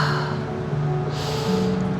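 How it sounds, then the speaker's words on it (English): Three quick breaths are taken during a live stretching class for the feet, wrists, fingers and neck, forceful bursts of air heard close over a steady background hum. "3 quick breaths."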